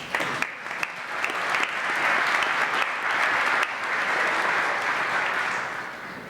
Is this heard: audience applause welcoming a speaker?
yes